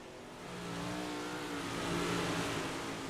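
Big block modified race cars lap Knoxville Speedway in practice, a steady mid-pitched engine drone swelling as cars accelerate past at moderate distance, with no talk over it.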